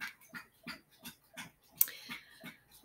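A dog pants rapidly and steadily after falling off a bed, with about eight breathy pulses spaced evenly, close to the microphone, and a brief sharp click partway through.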